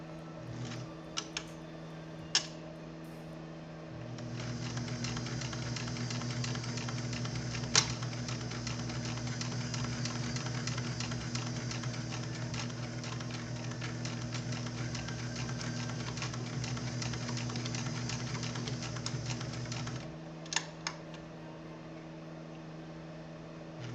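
A sewing machine stitches a buttonhole, running with a steady motor whir and a fast mechanical needle chatter for about sixteen seconds between a few isolated clicks and taps before and after.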